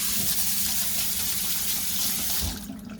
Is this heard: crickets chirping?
no